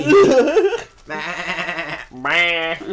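A person bleats like a goat in drawn-out wavering calls, two close, loud imitations following a brief burst of other vocal noise.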